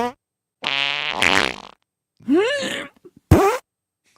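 A voice imitates a wet fart with long buzzing, sputtering lip noises, then adds squeaky vocal sounds and a final short burst, all close and loud with silent gaps between.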